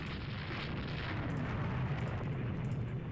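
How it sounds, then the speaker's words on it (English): German warships fire during a naval battle in the video game Rule The Waves 2, heard as a dense, continuous rumbling roar of distant gunfire and explosions that blur together without distinct single shots. "the German fire is really accurate"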